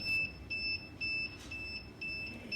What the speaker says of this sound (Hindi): इन्वर्टर में से बीप साउंड आने लग गया है